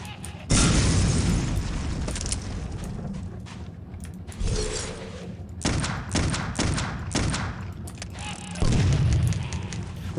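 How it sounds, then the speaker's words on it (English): An enemy shooting skulls at the player in the horror game Clive Barker's Undying: several loud booming bursts and impacts, with a long blast at the start and a cluster of sharp hits later. "Wait a minute, is she shooting skulls my way?"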